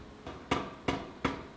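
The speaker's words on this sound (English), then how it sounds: "I'm doing as much of the work as I can under the power hammer" Heavy blows from a power hammer forging an Anglo-Saxon stirrup from tube stock, four sharp, evenly spaced strikes landing about every third of a second, loud and close with a short ring after each.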